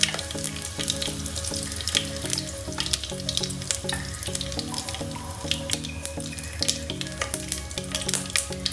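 Mustard seeds and curry leaves fry in hot oil for a Sri Lankan pineapple curry, a steady close sizzle with rapid crackling pops and spatter throughout, no voices.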